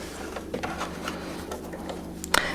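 Sewing machine stitching fabric with elastic thread for shirring, running as a steady mechanical whir with faint rhythmic ticking and a short louder clack near the end.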